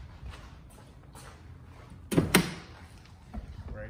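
Driver's side door of a Porsche Cayman opening, a pair of quick close latch clunks near the middle, fairly close, with quiet room sound around it.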